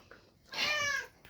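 A street cat living on a balcony gives a single drawn-out meow, moderately close and clear over faint background hiss, with no talking.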